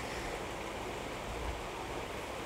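Water poured into basmati rice for pulao, a steady close splashing rush that stays loud and even throughout with no talking.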